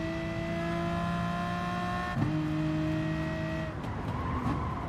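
Race cars in Gran Turismo Sport chasing a LaFerrari: a steady, high engine whine that holds pitch, shifts, then rises again, loud and close with faint tire noise.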